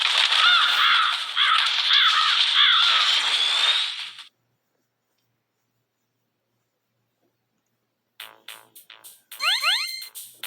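A raven in Metal Gear Solid caws in a harsh, rasping series of croaks for about four seconds, close and loud, followed by silence and then clipped electronic beeps and rising chirps from the game.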